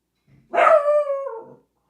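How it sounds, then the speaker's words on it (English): An excited dog lets out one loud, close, drawn-out bark that bends into a howl and then trails off, with near silence around it. "This dog is excited."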